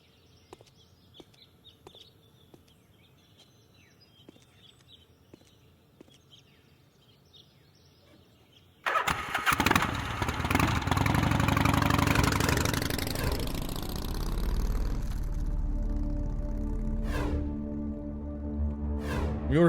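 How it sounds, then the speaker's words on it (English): Lady Howard and Estelle's moped in Gabriel Knight 3 sputters to life after quiet birdsong, then settles into a loud, steady small-engine idle with a slight waver. "I think that's Lady Howard and Estelle's moped."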